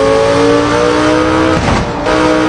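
A Lamborghini Gallardo engine holds a loud, steady, high revving note that dips briefly near the end before picking back up.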